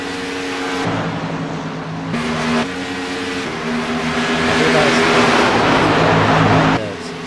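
Race car engines roar in the iCAR Cup racing game, a loud steady drone with shifting pitch as cars rev and accelerate, continuous throughout without talk.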